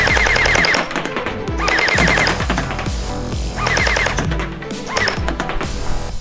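An SKD M4SS gel ball blaster fires in rapid bursts at a box target, each string of quick mechanical shots ending in short pauses, loud and close with no talking.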